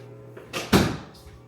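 An indoor door swings and shuts at home with a soft creak followed by a single firm thud, close by and fairly quiet, set against a low background hum from a running washing machine.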